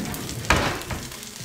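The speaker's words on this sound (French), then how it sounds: "On va remuer ça." Chicken breast with garlic, fennel and cayenne pepper sizzles in a frying pan as it is stirred, a steady close hiss with a sharp scrape partway through and no voice.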